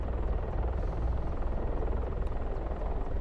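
A steady, loud rotor drone and engine whine from a hovering helicopter in the DCS World flight simulator, continuous throughout with no voices.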